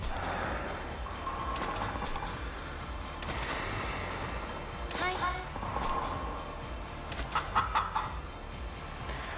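Clucking chicken-like calls from a bowling scene in a game come in several short bursts over a steady background bed, with a louder cluster of sharp squawks near the end.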